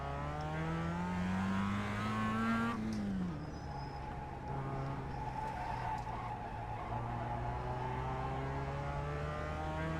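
A racing car engine in the iRacing sim racing game, run in C class, drones steadily and loudly. Its pitch climbs, then drops sharply about a third of the way in, before settling into a sustained, even roar.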